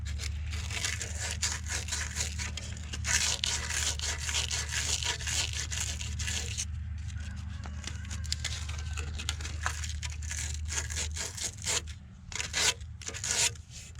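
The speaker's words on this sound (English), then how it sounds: "So now we'll get some sandpaper back out and try to clean it up a little bit better" Sandpaper rubs on a plumbing pipe in steady, rapid back-and-forth strokes that go on close up the whole time. A low hum sits under the scratching and it eases off briefly near the end.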